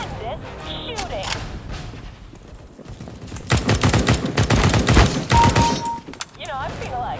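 Rapid bursts of gunfire ring out in Counter-Strike: Global Offensive, scattered early shots and then a dense sustained volley, with some talk alongside.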